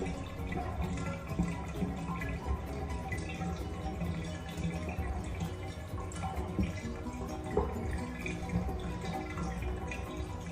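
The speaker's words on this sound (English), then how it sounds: "I'm letting the water out." Water draining out of a tub, a steady trickling and gurgling wash with scattered drips, continuous and fairly close throughout with no talk.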